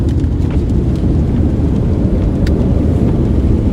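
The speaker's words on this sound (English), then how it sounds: "Oh, listen to that thunder!" Thunder from a strong Alberta storm cell, a deep continuous rumble rolling loudly over steady rain, close and powerful, with no talk.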